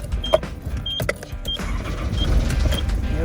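A van engine rumbles low and steady as it pulls away in first gear, with small regular ticking blips over the drone and no voices.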